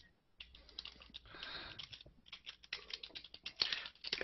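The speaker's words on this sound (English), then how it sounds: "Those fingers are still typing fast" Rapid typing on a computer keyboard, close and fairly quiet, a dense run of small clicks that pauses briefly near the start, then continues unevenly with a few louder key strikes.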